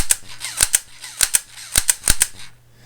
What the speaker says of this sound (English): Here's what the blowback sounds like